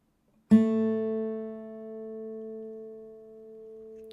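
One fingerpicked acoustic guitar note on the G string at the second fret, struck once up close and left to sustain and fade gently over several seconds, nothing else sounding.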